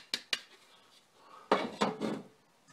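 A metal gold pan is handled and set down during a paydirt panning session, giving several sharp clanking knocks spread across a few seconds, close and fairly loud, with no talk.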